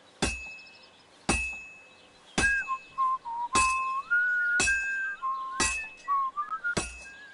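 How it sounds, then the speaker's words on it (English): In Kingdom Come Deliverance 2, a hammer strikes a heated sword on an anvil, giving seven loud, ringing metallic clinks at uneven intervals, each clang left to ring on, with a whistled tune drifting between the strikes. "Now take the hammer and try hitting it a few times."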